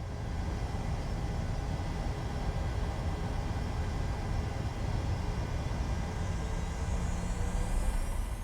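Steady, even engine drone of a PMDG 737-700 heard from inside the cockpit in Microsoft Flight Simulator, a continuous broadband whine and rumble holding level throughout with no voices.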